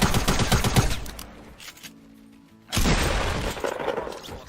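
Shotgun and submachine gun fire in a Fortnite solo-versus-duo match: loud dense bursts of rapid shots, a brief quieter lull with a tonal in-game sound, then another heavy volley.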